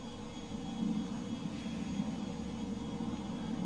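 Inside an airplane in flight, a steady, dense engine drone holds at an even level throughout, with no voices.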